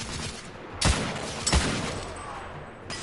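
Two loud, sharp gunshots from a gun in the video game The Order: 1886 crack out about half a second apart, with a fainter shot near the end over a steady game background.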